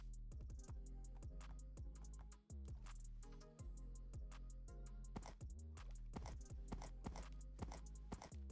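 Donkey hooves clip-clop in a video game in a steady, even rhythm of crisp, close hoof strikes that continue without pause.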